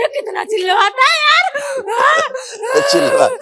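A man wails and screams in wavering, rising and falling cries with moaning breaks, loud and close and continuing without pause.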